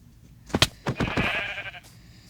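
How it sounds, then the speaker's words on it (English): Sheep in Minecraft bleating a few times in short wavering calls, fairly close and clear, with no talk over them. "There's a sheep there."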